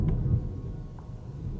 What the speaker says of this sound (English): Can you hear the thunder?